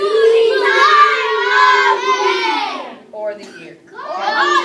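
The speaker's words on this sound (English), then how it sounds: "Why are we screaming all of a sudden, you guys?" Children in a classroom shout and scream together in loud, overlapping voices, breaking off briefly before rising again, while a child's speech mixes in.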